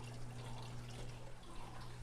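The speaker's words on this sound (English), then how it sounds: "gonna add some more water in this tank one time" Faint, steady trickle of water being poured into a 75-gallon turtle basking tank, a soft continuous splashing with a low hum underneath and no voices.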